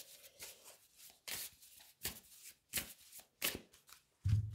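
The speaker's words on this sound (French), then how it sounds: "je vais battre le jeu" A deck of Oracle des sages oracle cards being shuffled by hand, with a series of crisp riffling bursts at an irregular rhythm, close and clear, followed by a soft thump at the end.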